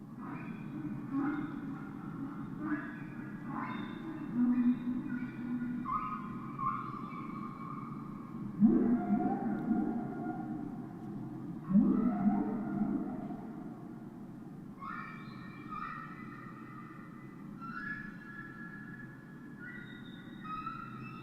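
Humpback whale song from 1970 recordings: long, moaning low tones and rising upper wails, with a few louder swells, sustained and reverberant across the whole stretch, no voices.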